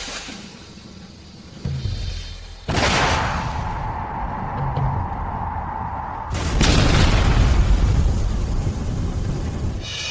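Aerial bombs dropped by an airship fleet explode in a string of loud booms, with a heavy blast near the middle and a second, bigger roaring burst that rumbles on to the end.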